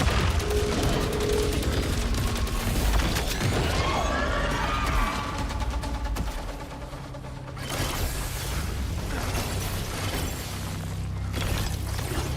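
Gun bursts during a video game boss fight, loud rattling gunfire mixed with crashing, shattering impacts and mechanical clatter, continuous and busy throughout.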